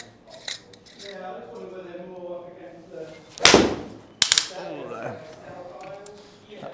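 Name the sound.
PXG 0311 Gen7 iron striking a golf ball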